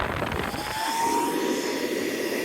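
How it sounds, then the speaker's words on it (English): An electric air blower for an inflatable bounce house runs as a steady, loud roaring whoosh, with a rising whine as the motor spins up. "so I just plug in the blower,"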